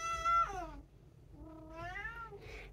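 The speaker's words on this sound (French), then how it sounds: "je me fais engueuler par mon chat" A pet cat meows insistently at its owner, two or three close, clear meows with rising and falling pitch, the last one short and clipped.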